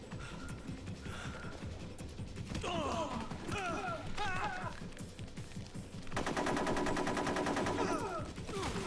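Gunfire in the video game Metal Gear Solid 3, a quiet run of rapid shots with game sound effects, turning into a denser, louder burst of automatic fire toward the end.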